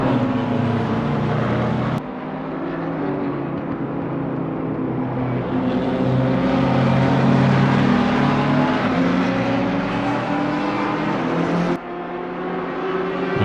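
GT3 race cars in Assetto Corsa Competizione roar around the Nürburgring, several engines droning and shifting together in a sustained, dense racing sound with abrupt cuts between views, no talk over it.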